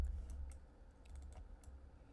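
Sharp mouse clicks in Rhino 8 3D modeling software on a computer, a few quick taps spaced irregularly across a couple of seconds, close and crisp over a faint low hum.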